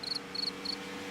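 Crickets chirp in three short, evenly spaced bursts, bright and clear over a steady low background hum, with no talking.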